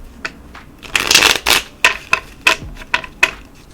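Tarot cards being shuffled and drawn, with a dense riffling flutter followed by several crisp separate snaps and slaps of cards, close and fairly loud.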